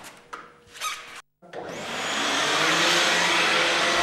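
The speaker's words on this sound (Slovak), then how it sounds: "Jednoducho ho nasadím na vysávač" Vacuum cleaner fitted with an Airduster attachment for dusting blinds, a few handling knocks and a brief pause before the motor starts and swells into a loud, steady broadband whoosh.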